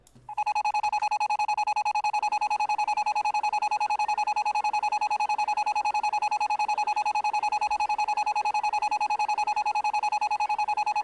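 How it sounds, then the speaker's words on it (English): A distorted video game notification chime firing many times at once, merging into one loud, steady, buzzing electronic tone that holds unbroken for the whole stretch. "I like how the notification sound is distorted because it's going off so many times at once"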